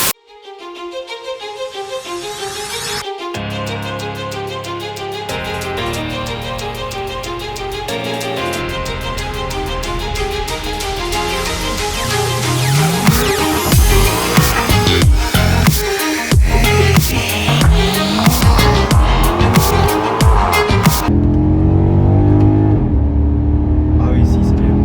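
A Maserati GranTurismo engine revs hard while driving, a loud, close, rising and falling growl with repeated surges toward a high-pitched wail, then a drop back near the end, with people talking over it.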